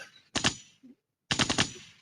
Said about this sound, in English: gunshot.